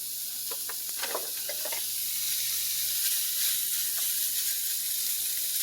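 Bacon in a hot pan gives a steady close hiss of sizzling, with a few brief clatters near the start.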